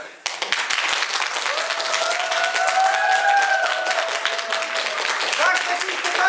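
An audience at a village festival of authentic folk song gives sustained, dense applause for elderly women singers. The clapping is loud and steady throughout, with a voice speaking over it.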